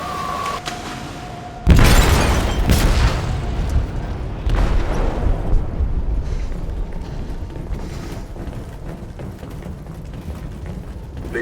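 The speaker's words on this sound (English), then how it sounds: "They detonated an explosive in the hold." An explosive detonating in a ship's hold in Detroit: Become Human, a sudden loud boom that breaks into a long roaring, rumbling wash of debris and churning noise fading slowly.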